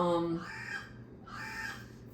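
A crow caws twice in the background, each call a drawn-out harsh rasp about a second apart, moderately loud over a quiet room tone with a voice briefly at the start.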